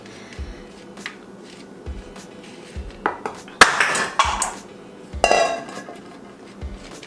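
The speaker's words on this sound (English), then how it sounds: "Just make sure each fry is laying flat on the pan." Vegan fries being spread across a metal baking pan, with scattered light clinks and scrapes of pieces and utensils against the tray, a few sharper metallic clatters mid-way.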